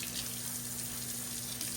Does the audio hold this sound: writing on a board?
no